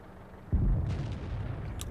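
Artillery fire in the World of Tanks video game: a single deep, heavy cannon boom hits suddenly after a quiet moment, then rumbles and decays into a long low roar.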